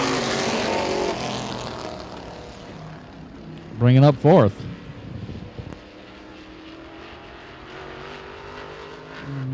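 Race cars roar along the backstretch of Baer Field Motorsports Park during a season championship race, with engines droning under an announcer's commentary. A loud car sweeps close by in the middle of the clip, then its sound fades into the distance.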